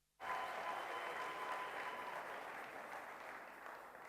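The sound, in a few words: audience applauding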